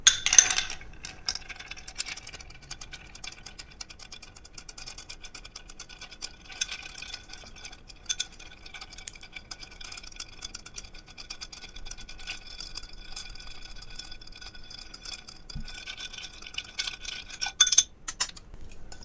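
A cocktail made with dry vermouth is stirred over ice in a mixing glass. Soft, steady clinks and rattles of ice against glass run continuously, quiet and close, ending with a few sharper clinks.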